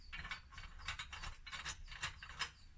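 A ratchet clicks in rapid, uneven bursts while bolts with towers are screwed into the head steady of a BSA motorcycle, close and fairly quiet with no talking.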